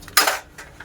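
Dishes and utensils being washed one at a time in a home kitchen: one sharp metallic clatter close by, followed by two lighter clinks.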